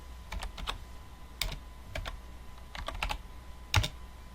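Quick bursts of keystrokes clatter on a computer keyboard while someone types in Microsoft Word 2013, irregular clusters of close, crisp taps with short pauses between words, no voices.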